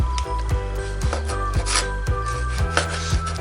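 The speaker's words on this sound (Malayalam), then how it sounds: "ഇതുപോലെ ചെറിയ പീസുകളായിട്ട് കട്ട് ചെയ്തെടുക്കാം." A knife chops ripe strawberries into small pieces on a cutting board for homemade jam, giving a steady run of crisp, close taps about twice a second over faint kitchen noise.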